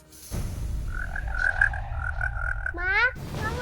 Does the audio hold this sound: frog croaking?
yes